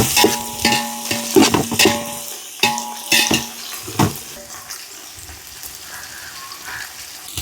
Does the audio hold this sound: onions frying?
yes